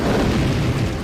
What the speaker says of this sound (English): When he cautiously touches them to the rune, a massive explosion throws his body back like a rag doll.